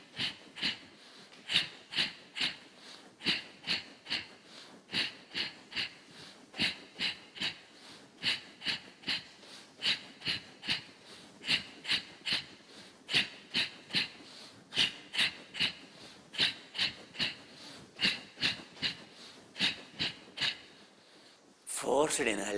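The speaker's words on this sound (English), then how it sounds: "Forced inhalation, forced exhalation, short it is a powerful way of making your residual volume 0" A yoga breathing drill of rhythmic forced inhalations and exhalations repeats steadily, roughly two sharp nasal breaths per second, close and clear, with a brief noise at the very end.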